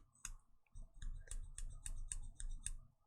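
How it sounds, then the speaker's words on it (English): A knife makes a run of about eight crisp, close clicks in a fairly even rhythm, sharp and dry against near silence. "It's just not a good sound for a knife to make"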